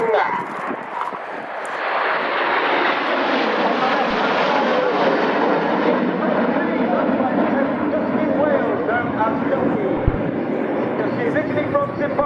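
Concorde flying past at an RAF Cosford airshow, a loud, sustained roaring jet rumble that swells and holds, with a commentator talking over it.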